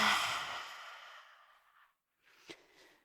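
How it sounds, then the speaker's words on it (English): A long, deep exhale during a fiery vinyasa yoga flow, loud at first and slowly fading over about two seconds, then a brief quieter breath with a small catch. "Big breath out."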